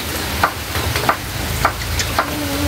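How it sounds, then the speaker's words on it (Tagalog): Tomatoes sautéing in cooking oil for a large-fish dish, a steady broadband sizzle with periodic brief scraping stir clicks roughly every half second, close and moderately loud with no talking. "lagyan na po natin ito ng mantika po para makapag-gisa na po tayo"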